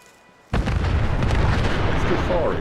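Weapon firing in the video game Fallout 4, a sudden loud blast after a quiet moment that holds as a roaring, sustained stream of fire.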